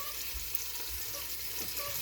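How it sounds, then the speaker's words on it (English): Tomato paste cooking down in an Instant Pot on the sauté setting for a meat sauce, a steady faint sizzle and bubbling with occasional soft stirring bumps, no talking. "cook the tomato paste down"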